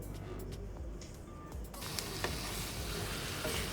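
Shrimp and prawns cook in a hot pan for coconut fried rice, giving a steady close sizzle and hiss with a few faint clicks. The sizzle brightens partway through.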